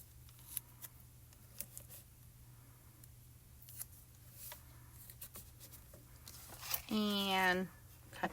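Tape being cut with scissors, a quick snipping and ripping rising near the end after faint scattered handling clicks, recorded quietly up close.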